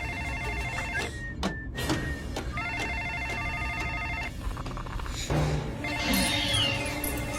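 A telephone in the LEGO Jurassic World game rings in repeated electronic bursts, alternating with short gaps, sweeps and clicks, all moderately loud with no talk.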